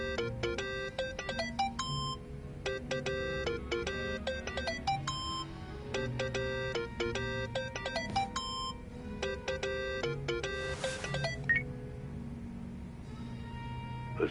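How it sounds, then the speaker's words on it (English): A mobile phone in the video game Yakuza: Like a Dragon rings in repeated bursts of a bright electronic ringtone pattern, steady and loud, with faint game ambience underneath. "Think that's your phone, man."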